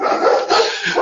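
A small pet dog yaps and barks close by in a short, busy burst of sound with no talk over it.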